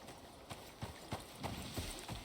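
A horse's hooves clip-clop in a steady trot inside the survival video game Icarus, faint and distant, with several soft, even hoofbeats over a low background.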